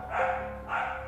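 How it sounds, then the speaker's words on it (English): Two quick muffled dog barks in succession, heard indoors at moderate distance, with no one speaking over them. "I went to see what they were barking at"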